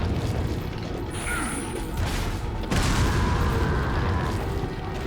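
A rocket blast in the Resident Evil 4 video game, heard as a booming burst with mechanical clatter amid dense game noise, a louder impact surging midway and lingering.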